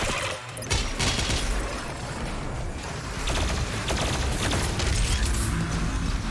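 Rapid gunfire from a Doom-style first-person shooter game rattles continuously, dense mechanical bursts and clanks running the full length at a loud, steady level with no voices.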